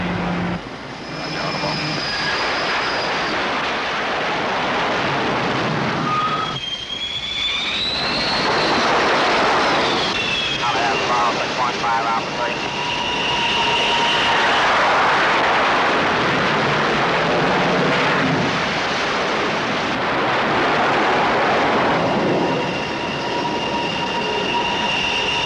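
A Navy jet approaching an aircraft carrier for landing off the coast of Vietnam makes a loud, sustained roar with rising whistling tones that swell and ease over about twenty-five seconds.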